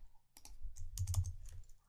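Fingers type on a computer keyboard in a short, quiet burst of close, irregular key clicks.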